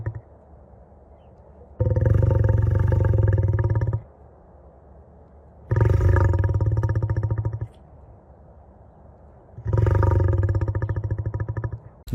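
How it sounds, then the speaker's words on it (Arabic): A lion gives three long, low roars, each lasting about two seconds with pauses between. The roars are loud and rumbling, with no talking. "سمع صوت هدير أسد واطي"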